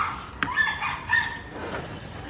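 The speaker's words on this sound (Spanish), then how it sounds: "pensé que había una bronca de perros abajo" Dogs bark below in a quarrel, heard at a distance: a few muffled, uneven yelps and barks rising over a steady background hiss.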